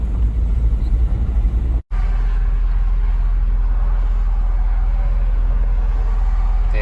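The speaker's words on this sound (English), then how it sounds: "Little test drive time." A car on a short test drive after a transmission repair, heard from inside as a continuous low engine and road rumble that holds steady apart from one brief dropout.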